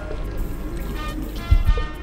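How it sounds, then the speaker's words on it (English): Cold water poured into a mix, a steady low splashing pour lasting about two seconds with a couple of heavier thuds near the end, no voices over it. "Okay, I'm gonna mix it with omi tútù."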